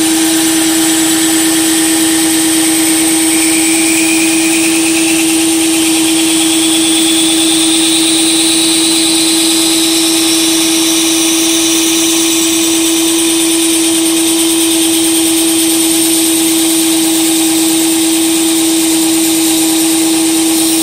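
A Gerber Gator series knife is held against a grinder driven by a cordless drill, giving a loud, steady high-pitched whine and grind that runs without a break, with no talk.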